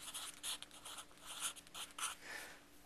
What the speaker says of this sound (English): right at the top you can write toolbox